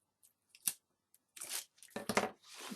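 Tape backing being peeled off a craft project makes short, crisp tearing rips in a few quick bursts separated by brief silences, close and fairly quiet.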